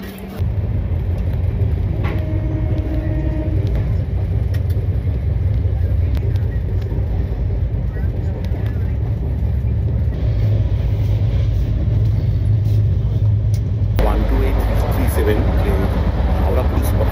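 Howrah Puri Superfast Express with LHB coaches running along the track, a steady low rumble and rattle heard from inside the carriage, continuous and fairly loud, with a brief shift in tone near the end.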